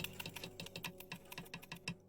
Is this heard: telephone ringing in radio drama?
no